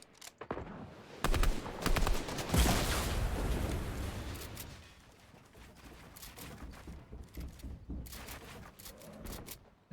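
Gunfire in Fortnite Battle Royale: scattered rapid shots come in bursts, with a louder sustained volley near the middle followed by intermittent cracks at moderate level.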